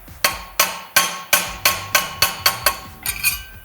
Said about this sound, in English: I want a nice snug fit to where I have to tap it on with a hammer